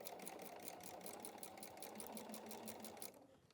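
A sewing machine stitches a quarter-inch straight seam across the top of a quilted wall hanging, running as a steady rapid whirring close by, then stopping near the end.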